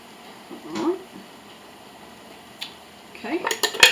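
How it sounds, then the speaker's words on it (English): Canned beans with their juice go into a big chili pot, heard as a few soft clanks and wet slides of metal and liquid, with a denser rattle of can against pot near the end. "So I'll put a can of beans with the juice and all into my big pot here."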